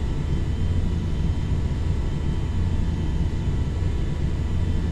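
Boeing 707 jet engines in Flight Simulator X, a constant low rumbling drone of the airliner in flight, steady and loud throughout with no voices.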